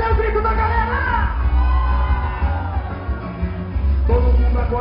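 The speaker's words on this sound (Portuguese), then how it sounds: "Cadê o grito da galera?" A live show audience of Rio fans yells and cheers in a dense, sustained roar, close and loud, with whoops rising over the mass of voices throughout.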